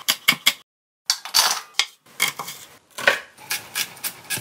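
A knife chops yellow and red bell peppers into medium pieces on a cutting board, with quick sharp close taps in uneven bursts and a brief pause.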